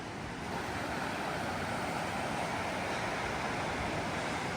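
River water rushes steadily in a Wyoming mountain town, a constant broad wash of flowing water with no breaks, moderately near and fairly soft.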